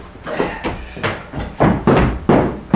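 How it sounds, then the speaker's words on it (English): A series of about eight firm, evenly spaced knocks in a staged theatre scene, each a sharp thud with a short ring, growing somewhat louder toward the end, with no voices over them. "Knock."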